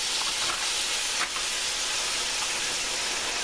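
Seafood of mussels, squid and octopus added to a hot pan, giving a dense, steady sizzling hiss close by with a slight crackle, no voices over it.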